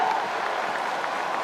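A college baseball crowd at Plainsman Park applauds and roars in a steady wash of clapping and cheering through the whole moment.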